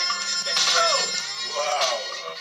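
A phone rings in for a live call-in during a question-and-answer interview, giving two bright warbling electronic ring bursts close by, with a low steady hum underneath.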